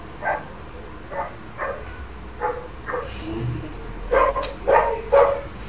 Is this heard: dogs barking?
yes